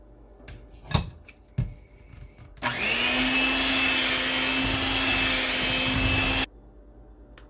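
An electric mixer whirs into pound cake batter as flour is added, a steady high-pitched motor hum lasting about four seconds, preceded by a few clinks of utensils against a bowl.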